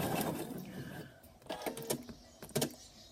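Sewing machine stitching quilt fabric, short bursts of motor whir and rapid needle chatter starting and stopping, close and fairly quiet, with faint background noise at the start.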